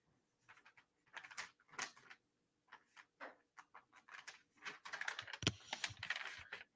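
Fingers type on a computer keyboard in short irregular bursts of quiet, close clicks and taps, pausing briefly between flurries, with no talking.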